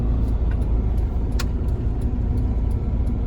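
A car under way during a driving lesson, a loud, steady low engine and road rumble from inside the cabin with small clicks and ticks over it, no voices.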